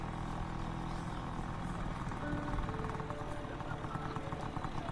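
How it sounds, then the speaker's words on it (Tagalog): A motorcycle on a ride, its engine giving a low, steady, rumbling hum throughout, faint and even in level, with no clear passes or revs. "Sasakay ako ng motor sa huling pagkakataon."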